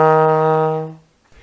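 A trombone sustains a single E flat note, bright and brassy with rich overtones, held steady for nearly a second before trailing off into quiet.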